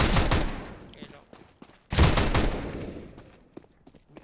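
Gunfire in a Counter-Strike match: a burst of rapid shots, then a second loud volley after a short pause, followed by scattered single shots fading out, with a voice speaking in the background.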